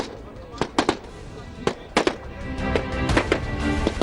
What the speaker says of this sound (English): these young men practice their firing skills as well